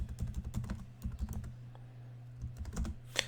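Quick, irregular keystrokes clatter on a computer keyboard while someone logs in to a VMware virtual server, with close, dry clicks in bursts and short pauses and no talking.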